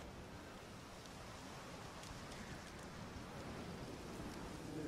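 Continuous rain pours during a storm at a wedding in The Witcher 3, a broad even hiss with a faint low roll beneath it, swelling slightly toward the end with no talking.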